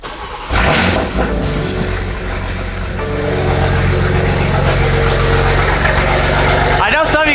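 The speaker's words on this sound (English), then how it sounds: "Let's go ahead and get a cold start." A BMW engine cold-starts with a brief crank, catches about half a second in, then settles into a loud, steady, throaty idle that runs close by to the end.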